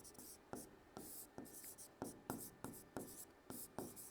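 A teacher writing on a board, a rhythmic series of about a dozen sharp taps and short scratchy strokes spaced roughly every half second, close and quiet, with faint speech in the background.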